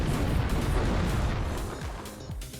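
An explosion in The Thing video game that sets the ground on fire: a loud low booming rumble at the start that decays into crackling bursts and fading debris noise.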